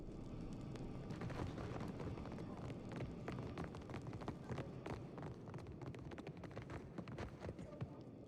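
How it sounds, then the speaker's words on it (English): In the game Pillars of Eternity II, rapid, dense footfalls approach under a rumbling backdrop, a steady, busy patter that fills the whole stretch at low level. "We hear footsteps. Something approaches."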